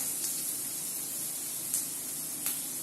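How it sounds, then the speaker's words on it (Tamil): Onions and dried chillies frying in hot oil for a spicy Tamil egg fried rice, giving a steady, dense sizzling hiss that holds throughout, with a few faint spits and crackles rising above it. "அந்த எண்ணெய் நல்லா சூடானதுக்கப்புறம் என்ன பண்ணுறோம், இந்த மாதிரி வெங்காயத்தை போட்டுட்டு காஞ்ச மிளகா போட்டுக்கலாம்."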